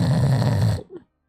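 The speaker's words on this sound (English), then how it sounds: "These are like but little cute snores." Small, soft snores picked up close to a microphone, a low rumbling breath lasting under a second before trailing into near silence.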